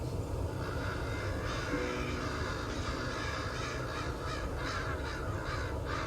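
Crows caw repeatedly over a steady windy rush in open grassland, the calls fairly distinct against a constant broadband background.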